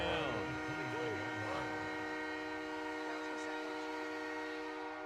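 A train whistle sounds in steady, sustained tones through the whole stretch, fairly loud, layered over a sports broadcast with commentary and people talking underneath.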